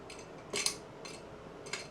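Latches on a HappiJac pinless bunk lock are flipped by hand, giving a few faint, sharp metallic clicks spaced apart over a low steady background.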